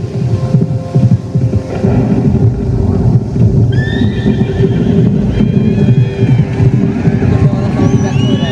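A recorded horse neigh plays as a sound effect in an outdoor light show at Bagh-e-Bahu in Jammu, a loud whinny rising over a deep, throbbing soundtrack hum, with a narrator's voice running underneath.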